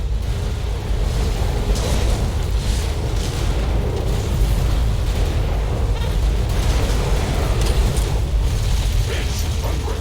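Buildings being destroyed during a base attack in the video game Riftbreaker: a continuous loud rumble of explosions and mechanical battle noise with repeated booms throughout, under brief alert announcements.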